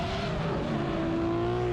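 Drift race car sliding around a corner, a loud continuous engine note with shifting pitch and a tire-squeal edge, close and alone with no talk.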